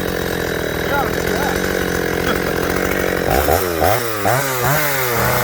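A Shindaiwa 757c chainsaw runs loudly up close, idling steadily then revving up and down repeatedly in rising and falling bursts.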